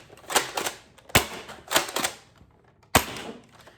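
Adventure Force Conquest Pro foam dart blaster fired several times, each shot a sharp, close, loud mechanical snap with a short rattle, spaced irregularly across a few seconds with quiet gaps between.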